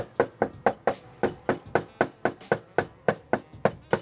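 Repeated knocking on a door at a New Orleans property, about fourteen firm, evenly spaced knocks over four seconds, close and loud with no talking.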